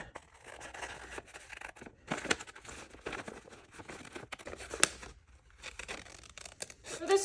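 Paper reference photo being cut with scissors, faint close snips and crinkling rustles in an irregular series, quiet and alone.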